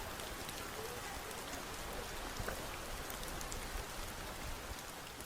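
An audience taps two fingers together in unison to imitate rain, producing a dense, even, hissing patter that holds steady for several seconds with no talking.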